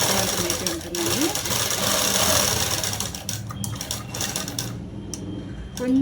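A sewing machine stitching cloth for cut-work pants runs in fast, steady rattling bursts close by, pausing briefly and then starting again, with no talking.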